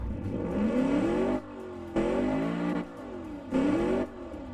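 A simulated car engine in the game Automation is revved in three repeated pulls, each rising in pitch and then cutting back to a lower idle, close and loud with no talk.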